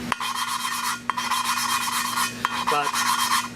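A hand lapping tool grinds a valve against its seat in a Nissan VQ35DE cylinder head, giving close, loud, raspy rubbing strokes in repeated bursts with brief clicks between them and no talking.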